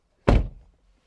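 A 2022 Land Rover Defender 90 P300 passenger door swings shut with one solid, close, weighty thunk that dies away quickly, with no talk.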